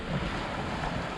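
Steady wind rush and sloshing waves on a sailing boat moving in a light 8 to 10 knot breeze, a continuous broadband wash with no voices.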